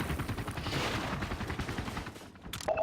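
Dense, sustained barrage of gunfire-like blasts and impacts from incoming missiles striking crates in a video game. The rapid, continuous bursts hold close and loud throughout and thin out slightly near the end.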